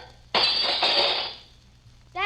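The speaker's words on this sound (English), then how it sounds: "Well, I guess we'll have to do some glass smashing." A nightstick smashes a glass transom in one loud, sharp crash. Shards tinkle and scatter for about a second before settling, and a voice begins just after.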